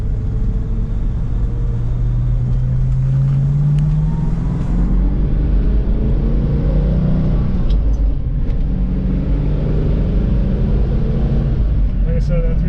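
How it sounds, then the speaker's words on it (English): A 1972 Ford Mustang Mach 1 with a healthy 351 V8, mild cam and dual exhaust, driving with a steady low rumbling drone and slight rises in revs, loud and close under cabin noise. "It does have a mild cam, and that paired with the dual exhaust does deliver a great sound."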